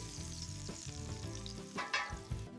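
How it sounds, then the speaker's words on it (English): Pork chop edges sear in a hot pan, a continuous close sizzle and spatter of melting fat with a few louder crackles near the end and no talking. "Sear the edges too. That fat melts down and adds so much flavor."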